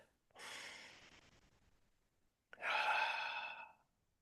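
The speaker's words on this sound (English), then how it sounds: "nice deep breath up into your heart" Two deep breaths, one long airy inhale and then a stronger, louder one after a short pause, close to the microphone with no talking.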